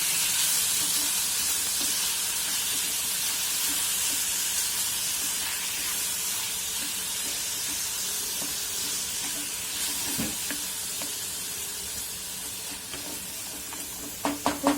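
Tomato frying in oil gives a steady, close, hissing sizzle that carries on without a break, with occasional light stirring clicks and a few sharp taps near the end, no voices.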